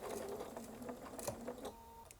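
A sewing machine runs a few quiet stitches through fabric, a soft brief mechanical whir with light ticking of the needle, heard up close and alone.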